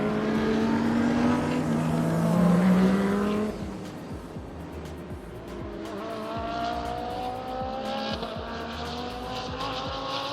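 Bentley race car, the number 18 GT entry, engine note rising and sweeping past during qualifying at Sepang International Circuit, loud and close at first then fading into a quieter, more distant drone as a second car passes.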